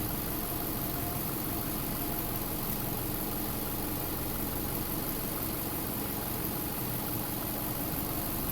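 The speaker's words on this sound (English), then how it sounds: "we're going to go ahead and start the vehicle, which this one already is" A 2007 Subaru Forester engine idles steadily, a constant even hum with a broad hiss over it and no change in pace, heard alone without talk.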